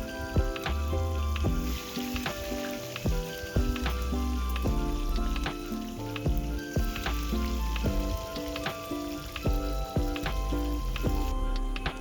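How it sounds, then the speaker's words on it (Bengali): Boiled eggs fry in hot oil in a kadai, the same oil used for potatoes, making a steady close sizzle with sharp pops and spatters. Melodic background music plays throughout, with no talking. "এরপর আমি কড়াইতে ওই একই তেলে ডিমগুলোকে ভালো করে ভেজে নেবো"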